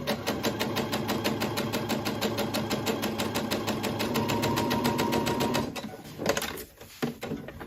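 A sewing machine runs a steady straight seam along a ruled line, its needle ticking in a fast, even rhythm for several seconds before stopping, followed by a few soft handling clicks.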